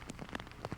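Steady, unbroken rain falls on a disc golf course in the fourth round of a 1999 tournament, a close, full-bodied hiss with soft drop patter throughout.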